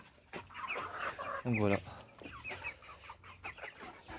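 Hens cluck on a French poultry farm where eggs are being collected, several close clucks including one loud squawk, while someone speaks over them.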